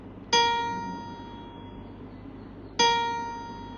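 The note B flat is struck twice in isolation, each producing a clean ringing tone with a crisp onset and gradual fade, separated by roughly two and a half seconds, soft and close.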